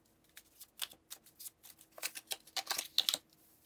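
Tarot cards being shuffled and drawn from a deck, a soft run of quick papery flicks and snaps that grows busier and a little louder toward the end, close and quiet with no talking over it.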